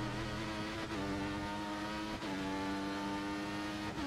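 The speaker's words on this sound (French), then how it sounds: "la Ferrari de Robin qui passe" A Ferrari race car roars loudly and close along a track at an Italian circuit, its engine holding a steady high-revving drone broken by brief dips at gear changes.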